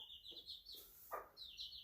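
Small young chicken making soft clucks and chirps, a few short calls in uneven bursts, faint and close with no talk.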